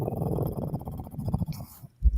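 A low, rough growl rumbles close and loud, continuous for about two seconds in a studio room, then ends in a brief thump.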